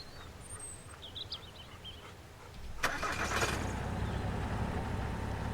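A car in the survival game Mist Survival cranks and starts midway, and its engine settles into a steady loud rumble after quieter ambience with faint bird chirps.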